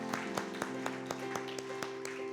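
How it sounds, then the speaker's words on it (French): A church congregation claps in praise of the Lord, even rhythmic claps about every quarter second ringing over a sustained musical tone in a reverberant hall. "Let's clap for the Lord."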